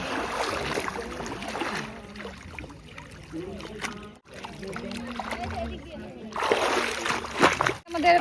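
Water splashes and sloshes close by as people bathe in the Ganges river, an irregular run of splashes with voices talking over it throughout.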